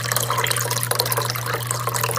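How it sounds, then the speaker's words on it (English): Water runs from a tap into a deep dish in a kitchen, a steady, close gush with a faint hum underneath. "I have my any day deep dish filled with water"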